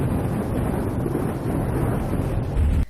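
Thunder from lightning strikes over a city in São Paulo state, Brazil: a deep, loud, rolling rumble blended with wind buffeting, ending in a heavier low boom that cuts off abruptly.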